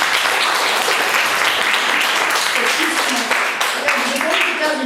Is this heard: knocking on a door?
no